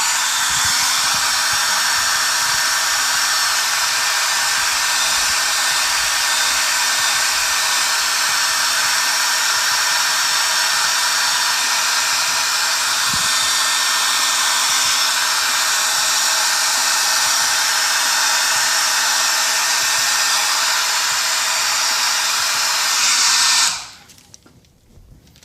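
A hair dryer blows steadily for about 23 seconds, drying paint on a hand-painted hockey mask, a loud continuous whir with a low hum underneath, then cuts off abruptly near the end.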